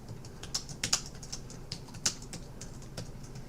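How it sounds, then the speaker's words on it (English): Someone types on a computer keyboard, with irregular quick clacks and taps, some louder key strikes standing out, close by and with no speech. "bad typing here"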